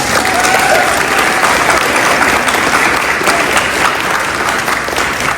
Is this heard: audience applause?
yes